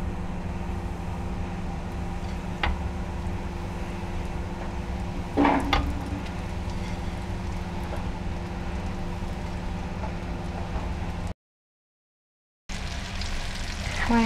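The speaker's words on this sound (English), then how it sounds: "the oil is hot and I'm going to add a batch into the oil" Crumbed chicken goujons frying in hot oil, a steady sizzle with a few brief clinks and stirring sounds, near and continuous, with a short dropout near the end.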